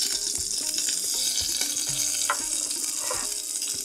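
Cumin seeds and curry leaves sizzle steadily in hot oil in a home kitchen, a dense, close crackle with small clinks and scrapes of stirring and no voices.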